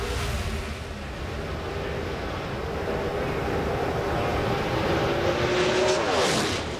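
Pro Stock drag race car heard from onboard, its engine a loud, sustained roar that holds steady before pitch sweeps downward near the end as it winds down.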